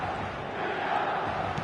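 An 80,000-plus stadium crowd in eFootball roars as a steady, dense wash of cheering, heard briefly and close with no distinct voices.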